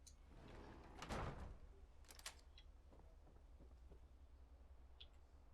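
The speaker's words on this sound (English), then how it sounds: "I can close this behind me and go out the other door" A door closing in the video game Fallout inside Croup Manor, a faint sliding clunk with a short burst of rattle, followed by a few soft mechanical clicks in quiet surroundings.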